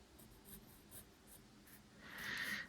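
A pencil lightly sketching a concept drawing of a sniper rifle on paper, with soft, faint scratchy strokes that grow a little louder and more continuous toward the end, with no talking.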